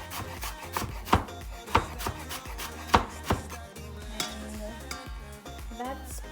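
A knife finely dicing red onion on a cutting board in a home kitchen, sharp close chops in uneven bursts over a low background of sizzling and music.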